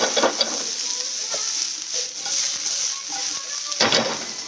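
Raw mango pieces sizzle and fry in a hot pan, with steady crackling and intermittent scraping stir strokes, a louder stirring burst near the end.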